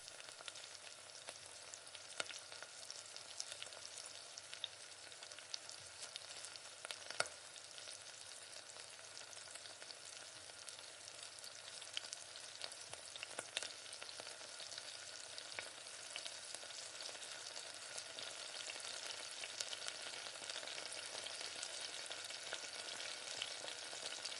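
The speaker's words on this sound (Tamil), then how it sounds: "சிக்கனை சேர்த்து உப்பு போட்டு ஒரு 10 நிமிஷம் நல்லா வேக விடணும்" Chicken sautéing in oil with salt in a pot for biryani gives a steady, close sizzle and fry hiss throughout, with occasional scraping clicks from stirring and no voices.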